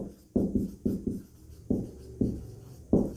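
Numbers are written by hand during a math lesson, with a series of distinct scratchy strokes in an uneven rhythm: quick pairs and single marks, close and clear, with no talking.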